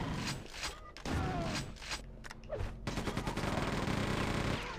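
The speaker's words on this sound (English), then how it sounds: "Man, that machine gun shreds." A machine gun fires in the Quake II 64 remaster on PC, a rapid continuous rattle of loud shots with heavy thuds mixed in, mostly steady and dense over the whole stretch.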